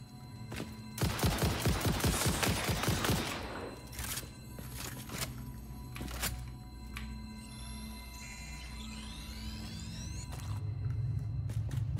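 Weapons fire in the video game Satisfactory: a dense, rapid burst of shots for a couple of seconds, then scattered single cracks and mechanical clicks over a low rumble.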